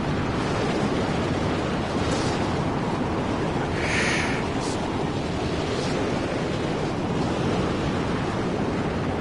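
Sandstorm wind in the Mad Max video game, a steady, dense roaring rush of broadband noise that stays loud and unbroken throughout, with a few brief brighter gusts and hiss swells.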